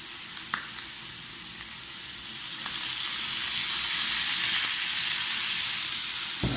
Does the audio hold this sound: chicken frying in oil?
yes